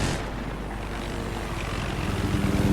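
Helicopters dueling in a video game make a loud, steady rotor and engine drone that fills the whole moment with continuous whirring.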